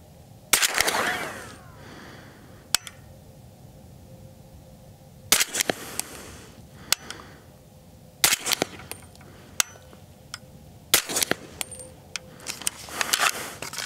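Gunshots from a PSA JAKL rifle in .300 Blackout with a 14.5-inch barrel, sharp loud cracks fired one at a time at irregular intervals of a few seconds, each followed by a short echo.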